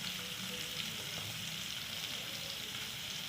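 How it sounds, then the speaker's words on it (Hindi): Onions sizzle steadily in a hot pan, a continuous crackling hiss at moderate level with no pauses and no voices. "इसको हम अब फ्राई कर लेते हैं प्याज़ों को अच्छे तरीके से।"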